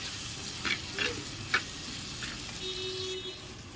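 Chopped tomato with turmeric and salt frying in a pan for a cucumber curry, a steady close sizzle with a few brief stirring clinks and scrapes, no talking.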